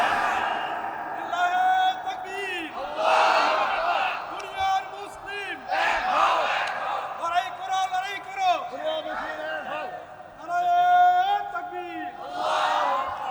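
Large crowd roars a loud, sustained chant in answer to a takbir call at an outdoor Bangladeshi Islamic sermon gathering, voices swelling in repeated waves of shouting across the whole stretch.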